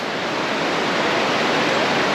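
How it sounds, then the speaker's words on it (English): Steady broadband rush of a river flowing far below a high, slightly bouncing suspension bridge in lush Boquete, Panama, an even, continuous wash with no voices. "there's a river below us"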